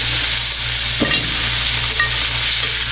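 Butter sizzles in a frying pan with steak, a loud, steady crackling hiss that fills the whole moment, with a brief stirring scrape partway through.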